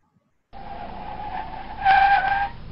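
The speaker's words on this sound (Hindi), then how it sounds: "एयरपोर्ट के सामने तेजी से आकर एक गाड़ी रुक गया" A car brakes hard and skids to a sudden stop in front of an airport, a loud tire screech starting sharply after a brief silence and rising in pitch toward the end.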